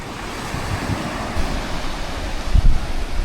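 Surf breaking on an empty beach at sunset, a continuous, fairly loud roar of waves with a few heavier crashes and some wind rumbling across the microphone.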